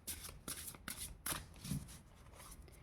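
Tarot cards are shuffled and drawn from a deck, quick papery riffles and slides in short bursts, close and quiet with no talk.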